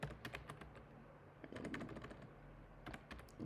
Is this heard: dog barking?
no